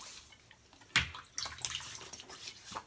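Water splashes close by as hands wet a face at a sink. There is a short burst of splashing, then softer dripping and trickling, with no talking.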